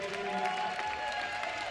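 Spectators at a youth lead climbing competition applaud and cheer as a climber tops the route, with steady clapping and scattered shouts throughout, moderately loud and close, with some talk mixed in.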